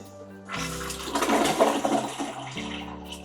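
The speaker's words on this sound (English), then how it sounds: "Let's go ahead and give it the flush test." A hotel bathroom toilet at the Aria Resort & Casino in Las Vegas flushes with a strong whooshing rush of water lasting about two seconds, then settles into quieter refilling, heard close with no talk.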